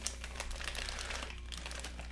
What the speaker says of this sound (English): I'm typing on the Angel today